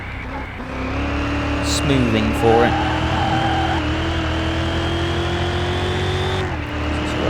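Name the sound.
car engine accelerating in video game Car Mechanic Simulator 2021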